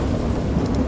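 Thunderstorm in the Dagon video game, a dense continuous rumble of thunder and rain, loud and steady with no talking.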